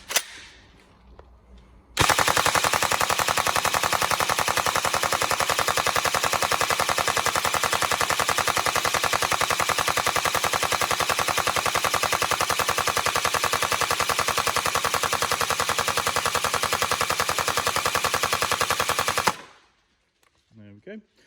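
A Tokyo Marui MK46 NGRS airsoft support gun with an upgraded high-speed motor on a 7.4 volt battery fires one long, loud, unbroken full-auto burst of about seventeen seconds, the mechanism buzzing at a very high rate of fire.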